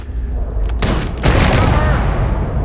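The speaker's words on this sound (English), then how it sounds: "So the grenades, it basically shoots little cluster bombs, is what it does." A grenade launcher firing cluster bombs in Starfield, a couple of sharp blasts followed by a loud, rumbling spread of overlapping explosions that fade out over about two seconds.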